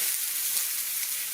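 Ground beef sizzles as it meets shimmering olive oil in a hot pan, a steady, dense frying hiss that holds evenly from start to finish with no voices.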